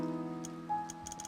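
A clock ticks in the video game To The Moon, a few quiet, crisp ticks over soft piano-like tones.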